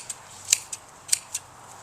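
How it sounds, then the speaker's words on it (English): Garden shears snip through daylily plants, giving four or five crisp, separate cuts at an uneven pace against a quiet background. "take my shears and go through and cut them about 6 inches above the"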